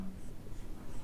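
Pen writing the chemistry formula MnO4 negative during a class 11 lesson on balancing redox equations by the ion-electron method, a soft continuous scratching lasting about a second with no talk.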